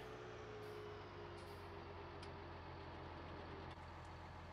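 A truck in Farming Simulator 19 hauls a trailer loaded with sugar beets, its engine droning steadily and evenly throughout. Faint hiss-like bursts rise occasionally above the continuous low rumble.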